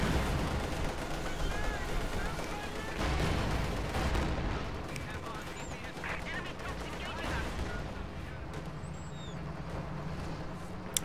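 Gunfire and anti-tank gun shots in Company of Heroes 2, a 3v3 match at Angermuende: dense battle noise with repeated shots and booms throughout, someone talking over it.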